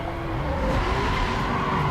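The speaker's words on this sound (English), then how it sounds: "Now here, I end up hitting the drift real nice" Steady, loud tire squeal and engine roar of a car drifting in the video game Need for Speed Most Wanted, a continuous sliding screech with a rising engine tone throughout.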